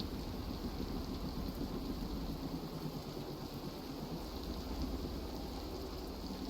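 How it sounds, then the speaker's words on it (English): A video-game thunderstorm with dense, steady rain and low rumbling thunder, an even, full wash of sound throughout with no voices. "Good lord, this storm is getting worse."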